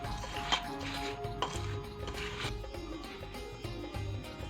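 Semolina, powdered sugar and grated coconut mixed together in a dish for rava laddu, giving soft scraping and stirring with a few light clinks against the dish, steady and close, with no talking.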